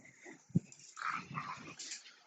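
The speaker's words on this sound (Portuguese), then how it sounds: "Peraí, cachorro." A dog in a room gives a short low woof and then a soft whining growl, faint and close against a quiet background.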